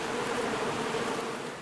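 Honey bees buzz in a dense, steady drone, close and continuous with no other sounds.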